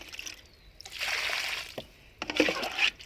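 Water from a 5 litre bucket poured onto the base of a potted lemon plant, soft splashing and trickling in two bursts separated by a brief pause, fairly faint and close.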